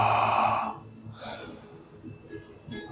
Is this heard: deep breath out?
yes